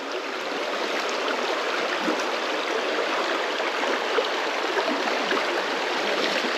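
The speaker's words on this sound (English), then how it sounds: "It's a much shallower river." A shallow river on Badger Creek rushing steadily over rocks, a loud, continuous broadband babble of flowing water close by, with no voices.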